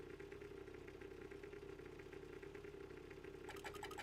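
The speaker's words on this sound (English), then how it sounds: "You can actually see him sitting down and revving the bike" Waluigi revs a bike engine in Mario Kart 8 Deluxe with a low, steady idling drone that runs throughout, then a brief burst of brighter game sound near the end, and no talking.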